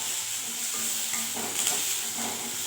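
Small chopped tomatoes sauté and sizzle in a hot pan for a tangy chutney, a steady soft frying hiss with faint stirring scrapes, close and continuous with no voices.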